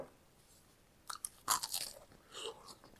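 Close bites into crunchy fried chicken give a few crisp, crackling crunches followed by softer chewing, heard up close in an otherwise quiet setting.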